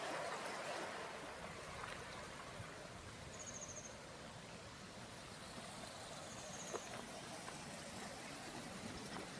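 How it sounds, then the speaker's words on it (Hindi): A river rushes steadily beside a waterfall in Austria, a broad, continuous wash of flowing water close by with faint traffic-like rumble mixed in. "ये वाटरफॉल नहीं है, ये तो इसके बगल से बहती हुई नदी है।"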